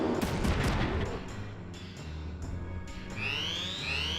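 Enemy missiles fire in the mech game Front Mission 3: a quick burst of sharp blasts up front, then a low rumble and a rising whooshing streak near the end.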